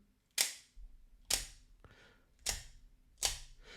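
Four crisp mechanical snaps as a Schrade Uproar OTF knife fires its blade out, each loud click followed by a short rattle, spaced about a second apart in a quiet room.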